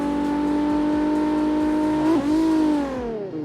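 Two BMW race cars rev loudly at the start line of a main-event drift battle, a sustained high engine drone that climbs and wavers before dropping off near the end, with no talk.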